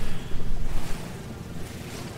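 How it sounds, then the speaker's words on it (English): Lakeside water ambience in No Man's Sky, a steady washing, surf-like rush with wind noise, louder and choppier at first, then settling into a softer continuous wash. "Ah, we're next to the lake."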